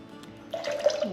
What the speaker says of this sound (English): we're going to put 200 grams of water